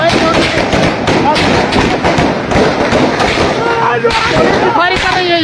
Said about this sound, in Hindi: यहाँ फायरिंग हो रही है